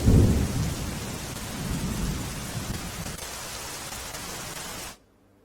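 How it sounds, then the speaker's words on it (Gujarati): Heavy rain pours during a storm in Ahmedabad with strong wind and a deep thunder rumble at the start, a continuous loud wash that fades a little before cutting off abruptly near the end. "ભારે પવન ફૂંકાવાની સાથે વરસાદ વરસ્યો"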